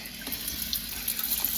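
Water pours from a pipe as water balloons are filled, a steady close splashing stream with faint fluctuating bubbly spurts and no talk.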